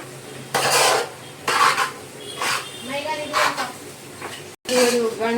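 Uggani being stirred in a pan, Karnataka style, with scraping and clattering strokes of a spoon against the metal repeating in bursts, close by, under a voice talking.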